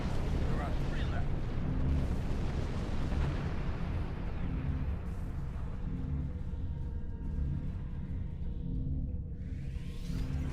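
Deep rumbling explosion as a significant base is destroyed in an online multiplayer video game, a sustained boom rolling out and fading over several seconds with game effects layered on top.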